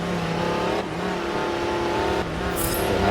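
Race cars rolling toward the start at Sebring in Forza Motorsport 7: a steady, loud, layered engine drone that swells slightly as the pack accelerates.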